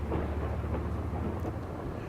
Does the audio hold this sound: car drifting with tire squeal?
no